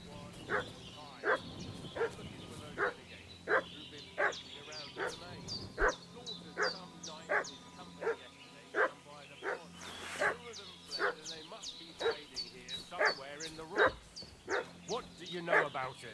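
In the medieval game Kingdom Come: Deliverance II, a dog barks repeatedly in an even, insistent rhythm at middle distance, with whimpering fuss between barks over a quiet outdoor backdrop.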